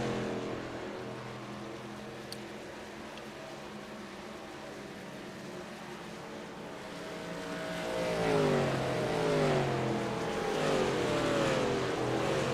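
A race truck accelerating off pit road at Nashville in a video game race: a low engine drone builds into a louder, rising rev with gear-shift sweeps in the second half.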